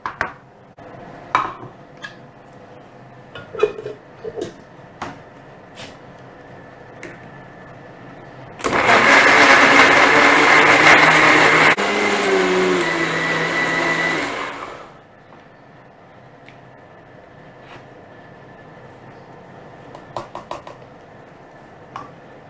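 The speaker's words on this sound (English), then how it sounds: "So now we're going to do the blending." A kitchen blender purees ginger, garlic, curry leaves, green chilies and tomatoes in a loud, steady whir lasting about six seconds that dips in pitch partway through, framed by quieter handling clatter before and after.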